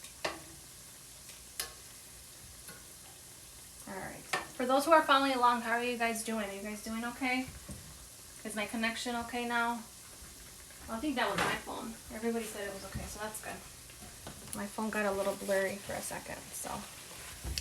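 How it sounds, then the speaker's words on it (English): Churros frying in a pan of oil, a steady low sizzle with occasional ticks running beneath someone talking through most of the clip. "And they're gonna fry maybe around 2 to 3 minutes on each side."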